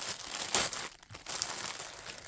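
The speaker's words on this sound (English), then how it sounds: "look at me ripping open the bags" Plastic bags of thrift store and estate sale supplies being ripped open, close crinkling and tearing rustles with a sharp burst early on, then continued crumpling.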